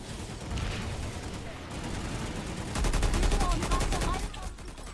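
Naginata gun firing in the video game PlanetSide 2, rapid bursts of automatic fire that intensify in the second half, dense and loud over continuous battle noise, with no clear talk.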